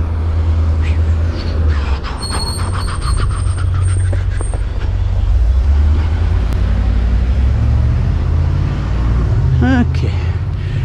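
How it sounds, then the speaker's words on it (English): A FedEx truck rumbles past very close by, its heavy low roar loud and sustained amid constant traffic noise, with a brief squeal near the end. "almost got killed by a FedEx truck"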